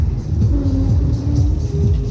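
The crash test reverse spinner roller coaster at Southport Pleasureland, a loud, close, steady rumble of wheels on track with whining tones sliding up and down, no talking.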